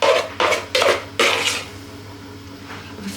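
Leftover Welsh rarebit cheese mixture spooned into a small dish: four scraping, clinking spoon strokes against the bowl in quick succession, then a quieter pause, close up with no talk.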